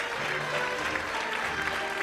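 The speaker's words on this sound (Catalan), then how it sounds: "Amb una forta ovació pujava la xiqueta Celia Cervera" Strong applause fills the hall at a Falles proclamation ceremony in La Pobla de Vallbona as a young girl goes up on stage, a steady dense clapping from a large crowd throughout.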